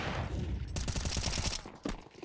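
Rapid rifle spray in a Counter-Strike esports match, a dense burst of closely spaced shots lasting about a second, fairly faint and with no talk over it.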